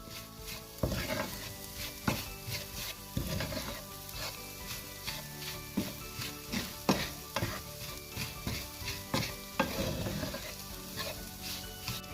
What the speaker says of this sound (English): give this a good mix and allow it to simmer for 2 minutes